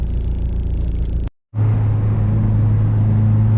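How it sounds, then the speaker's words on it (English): A Mazdaspeed 6 fitted with a BNR S4 turbo pulls hard through the gears, a loud, steady engine drone with a strong low hum that briefly cuts out for a shift before surging back. "See the car doing a couple of pulls and a couple of gears"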